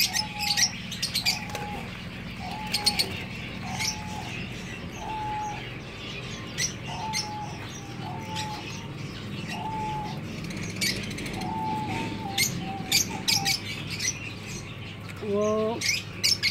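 Caged doves, white, diamond and silver, coo repeatedly in a steady rhythm of soft, low calls, with light chirps and occasional brief wing flapping nearby against quiet background noise.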